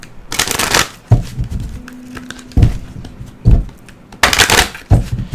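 Gateway Oracle cards being shuffled by hand, close and crisp, in repeated riffling bursts separated by short pauses and soft handling noises.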